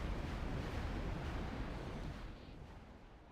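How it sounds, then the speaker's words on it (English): A Scud missile launching in C&C Generals Zero Hour, a loud, sustained rumbling roar across the whole clip that fades slightly toward the end. "Scud number 3 is firing."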